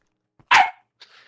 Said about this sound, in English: My puppy's here, and she is very restless.